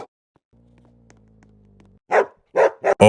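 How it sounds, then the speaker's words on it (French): A pet dog gives several sharp, loud barks close by, a cluster of three or four quick yaps coming after a quiet lull with a low hum in the background. "Qu'est-ce qu'il y a? Pourquoi tu aboies?"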